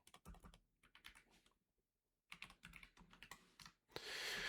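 Computer keyboard keys clatter in quick irregular bursts, faint and close, with a short pause midway before typing resumes, then a burst of noise at the end.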